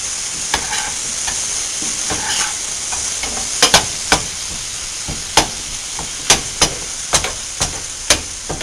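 Food cooks in butter and seasonings in a pan with a steady bright sizzle, punctuated by a series of sharp clinks and taps from a utensil against the pan, close and loud with no voices.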